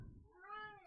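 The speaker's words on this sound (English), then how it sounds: "This cat right here, yelling up a storm" Yoshi the cat gives one drawn-out, rising and falling meow, close and clear against a quiet room.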